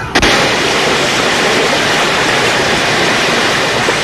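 Rushing floodwater roars as a loud, steady broadband wash after a brief sharp thump at the start, continuous and close with no voices.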